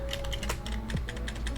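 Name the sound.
typing on a computer keyboard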